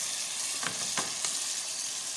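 Boiling water that meat was cooked in is poured into a hot frying pan, giving a steady, loud sizzle with a few short bursts of crackling near the start, with no talking.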